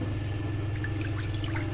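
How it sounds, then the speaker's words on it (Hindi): Half a cup of water poured into a spice marinade for fried chicken, a soft continuous trickle and splash lasting under two seconds, close and gentle, with no speech. "इसमें डालेंगे हम 1/2 कप पानी"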